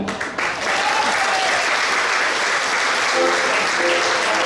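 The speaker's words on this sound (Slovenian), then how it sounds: "Hvala lepa za lep aplavz." Audience at a Celje regional SDS members' gathering applauding the accordion player on his birthday, dense sustained clapping filling the room after a brief opening moment.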